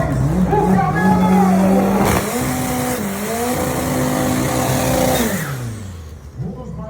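Race car accelerating hard, its engine note climbing and dropping through several gear shifts, loud and close, with a crowd-like wash behind and faint voices.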